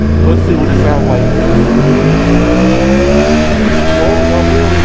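A Yamaha R1 motorcycle engine with upgraded flow, revving loud and close with rising and falling harmonic sweeps as it accelerates through gears, continuous throughout.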